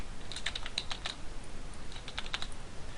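Someone types on a computer keyboard in short bursts of quick, light clicks that pause and resume. The clicks sit close against a steady background hiss, and no one speaks.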